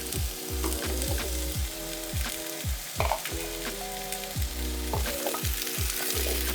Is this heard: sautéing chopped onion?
yes